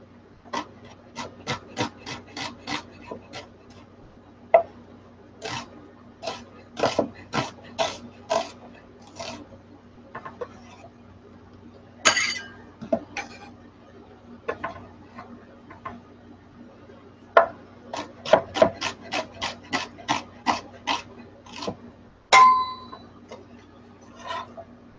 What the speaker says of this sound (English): I'm gonna slice it pretty thinly